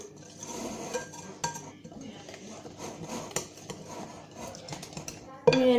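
Quatre-quarts cake batter mixed by hand in a bowl with a utensil, producing soft rhythmic scraping and clinking strokes, fairly close, while someone talks over it.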